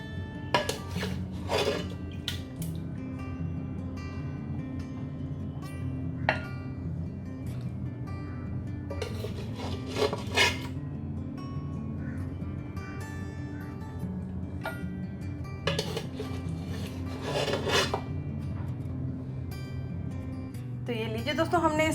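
Pot and spoon clatter as mutton namkeen gosht (Peshawari rosh) is served out of the cooking pot, with scattered scraping and metal clinks in bursts over a steady low background hum.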